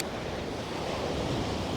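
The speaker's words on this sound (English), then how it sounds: "Just sit and listen to the waves." Ocean waves wash ashore at Ponte Vedra Beach, a continuous, full broadband roar of surf close by, steady and loud with no pauses, mixed with light wind.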